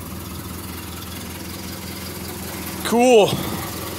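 A 1928 Ford Model A Phaeton idles in neutral with a steady low chugging rumble, close by, briefly swelling as a short voice cuts in near the end.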